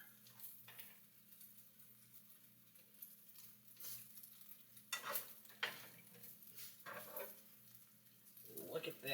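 A cheese omelette fries in a pan after being flipped, a soft sizzle punctuated by spatula scrapes and stirring clatter, with a voice speaking faintly at moments.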